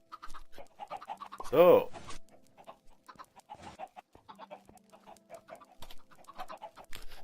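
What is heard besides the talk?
chickens clucking in a Minecraft chicken farm, from video game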